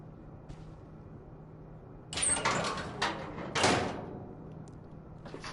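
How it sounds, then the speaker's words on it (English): A secret door in What Remains of Edith Finch slides open after a quiet pause, with two loud scraping, rumbling surges close by, then settles. "Secret door."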